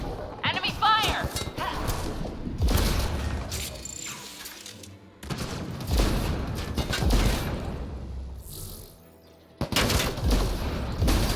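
Gunfire in Mass Effect Andromeda multiplayer comes as dense bursts of shots and impacts with short lulls, loud and busy, while a player talks over it.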